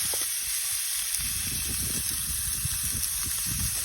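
Wagyu beef sizzles steadily on a cast iron pan heated to 300 degrees, a loud, close, continuous frying hiss with crackling pops and no talking.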